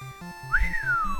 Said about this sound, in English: I struggle to whistle competently on command